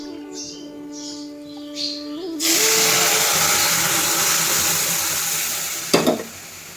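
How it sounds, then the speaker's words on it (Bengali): A loud, steady sizzle bursts up as chili, whole cumin and onion hit hot mustard oil in a pan, following a few seconds of quieter tonal sounds, with a brief sharp clatter near the end. "আমি সরিষার তেলে লঙ্কা, গোটা জিরে আর পেঁয়াজ ফোড়ন দিয়েছি।"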